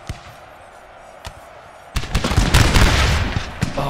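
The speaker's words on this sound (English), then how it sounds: "Oh, look at this fire in advance. Rippling through." Musket volley fire rippling down a line of advancing infantry in the Napoleonic-era strategy game Napoleon Total War, Prussian campaign: a few scattered sharp shots, then a dense, loud, continuous rolling crackle of gunfire.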